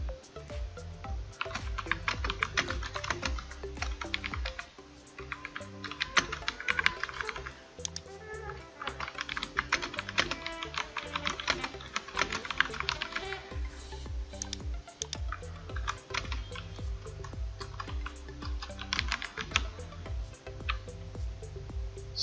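Rapid typing on a computer keyboard while entering a message on Discord, dense and continuous key clatter close up, steady throughout over faint background music, with no voices.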